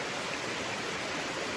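A branch of the Gale River flows with a steady, even rushing wash of water, fairly close and constant throughout with no other sounds.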